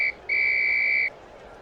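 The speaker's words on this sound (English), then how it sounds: "Whistle." Referee whistle in a computer basketball game, NBA 79, a short pip followed by one longer, loud, steady synthetic tone lasting under a second, clean and close against faint background hiss.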